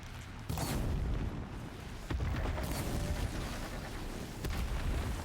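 Bombing explosions in the video game Horizon Zero Dawn, a series of heavy booming blasts with rumbling tails, one after another, loud and close, no talking.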